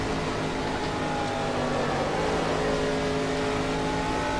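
A sim racing car engine drones steadily and loudly while accelerating, a continuous rising roar with no pauses and no talk over it.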